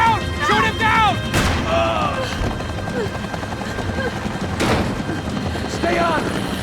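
Gunfire in Max Payne 3, sharp booming shots amid a chaotic battle din with a helicopter-like drone, while characters shout over the noise.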